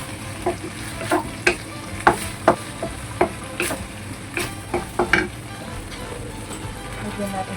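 Celtuce with egg and black fungus stir-fried in a thickened slurry, with repeated sharp spatula clacks against the pan over a soft, continuous sizzle.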